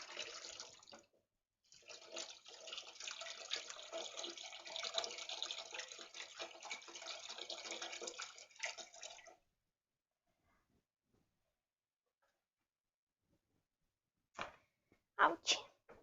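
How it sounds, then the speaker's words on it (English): Water from a kitchen tap runs steadily over burned fingers for several seconds and then stops, followed by silence and a few short splashes near the end. "I'll put it under the water"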